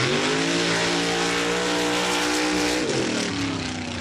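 A modified Jeep mud truck named Split Personality roars down the track at a mud drag race against another truck, with loud sustained engine revving and a pitch shift near the end.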